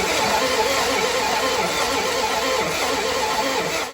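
A 1970 Dodge Dart Swinger engine cranks steadily after Marvel oil was added to six of its eight cylinders, giving a dense, continuous churning whir that holds evenly for about four seconds and cuts off at the end, with no voices.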